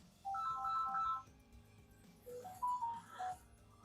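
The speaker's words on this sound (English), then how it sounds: "There's doggone phone calls." A phone rings with incoming calls, two short melodic ringtone phrases sounding quietly against a low background hum.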